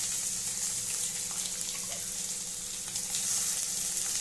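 Onion sizzling in a little oil with mustard seeds and chili in a pan, a steady close hiss of frying with faint crackles throughout, no one speaking.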